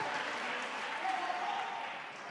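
A crowd in a gymnasium at a boys' high school basketball game cheers and applauds in a steady, moderately distant wash of clapping and voices that holds throughout.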